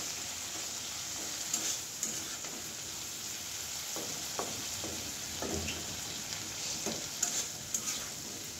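Vegetables frying in a pan with steady sizzling throughout, while a spoon or spatula stirs and scrapes at intervals; a Bengali home lunch being cooked, including a dish of Malabar spinach with egg being fried down, close and moderately loud, with no talking.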